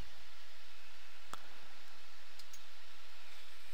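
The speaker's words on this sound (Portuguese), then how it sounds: "Vou clicar em OK" A computer mouse clicks OK in the NetBeans IDE, a single sharp click against a steady low hiss, with a couple of fainter ticks following.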